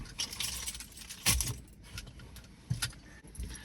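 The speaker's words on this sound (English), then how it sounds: "I'll see if I can find the keys." Keys jangle and clink in short bursts inside a parked camper van, with a few sharper metallic rattles during the search and no talking.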